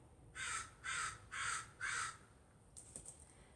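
A crow caws four times in a steady, evenly spaced series, each call loud and drawn out, followed by a few fainter scattered sounds and then quiet.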